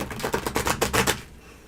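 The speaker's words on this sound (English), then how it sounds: "Let me shuffle." Tarot cards being shuffled, a quick run of about eight crisp riffling snaps in steady rhythm, close and clear, trailing off into quiet.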